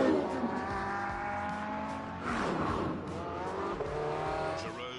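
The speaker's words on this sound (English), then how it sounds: "Jerome took the cars out to get a sense of how they handled." Race cars lapping a circuit in The Grand Tour game, engines droning loudly with shifting pitch through gear changes and tyres squealing through the corners, with no talking.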